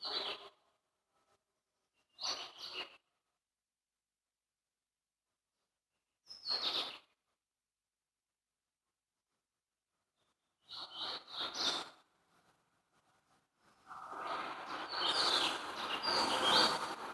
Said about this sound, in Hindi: पक्षियों की आवाज को सुने।